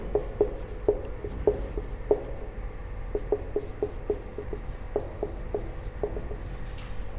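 Pen tapping and scratching on paper while writing out a maths solution, a steady series of crisp strokes and taps, close and distinct with no talking.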